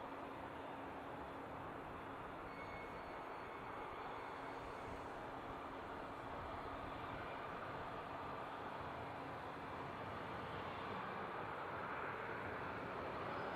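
A Delta airliner, flight 2447, at Seattle airport with anti-collision lights on after takeoff clearance, heard as a steady, distant jet engine rumble and hiss throughout with no voices.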